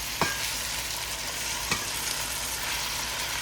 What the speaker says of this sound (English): just gonna let that continue to stir fry there for a minute or two